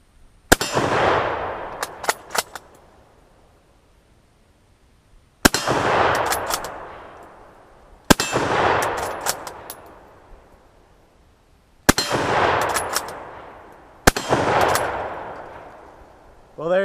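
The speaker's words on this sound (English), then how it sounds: "I hit all those shots" Rifle fitted with decent sights firing at targets on an outdoor gun range: five loud, sharp shots spaced a few seconds apart, each followed by a quick metallic ring of a hit and a long decaying echo.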